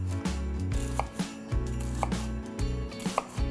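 A knife chopping an onion into small squares on a cutting board, with steady, evenly spaced knocks of the blade against the board, close and fairly loud, and no talking.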